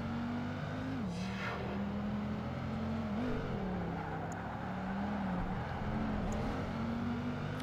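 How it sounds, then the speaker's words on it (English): A Dodge Viper race car engine in Project Gotham Racing 2 drones steadily at high revs, its pitch dipping and rising through gear changes and corners, with a brief tire or passing whoosh early on; loud and continuous, no talking. "I really like driving this Viper"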